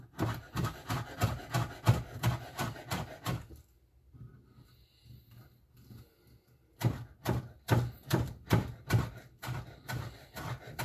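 A knife chops chives on a cutting board while making a French onion quiche: quick, rhythmic, close knocks in two bursts separated by a short quieter pause.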